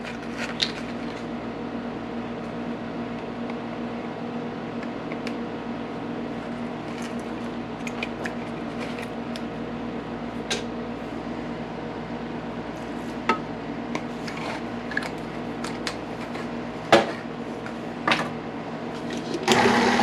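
An electric mixer whirs steadily, beating keto cookie dough in a bowl, with a constant mid-pitched motor drone and a few small clicks and knocks near the end.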